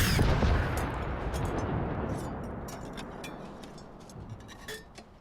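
Rocket launcher fire in the Generation Zero video game, a loud blast at the start that decays into a long rumbling tail with scattered faint clinks and debris sounds, no talking.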